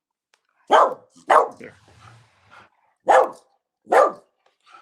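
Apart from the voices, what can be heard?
dog barking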